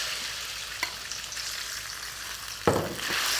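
Marinated pork dropped into hot vegetable oil in a wok for stir fry, a continuous close sizzle that surges into a louder, brighter crackle near the end, with no talking.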